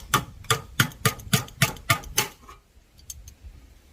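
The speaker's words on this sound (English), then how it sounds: "Why did I use a crescent wrench as a hammer?" A crescent wrench used as a hammer to knock out a half-inch knockout on an electrical disconnect box: seven sharp metallic raps at an even rhythm, then several fainter taps, close up with no talking.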